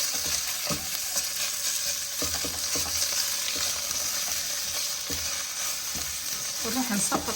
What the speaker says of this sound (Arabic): هم احمس المعجون شويه حمسه بسيطه